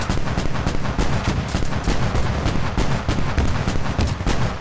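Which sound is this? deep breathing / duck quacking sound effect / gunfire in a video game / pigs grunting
gunfire in a video game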